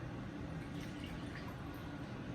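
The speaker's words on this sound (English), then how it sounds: "measure out 3/4 of a cup of the Epsom salt water" Epsom salt water pours steadily into a measuring cup, a continuous close, soft liquid rush without pause or talk.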